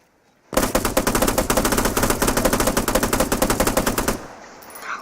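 An automatic weapon in the video game Arma 3 fires one sustained, rapid, loud burst lasting about three and a half seconds, then cuts off abruptly.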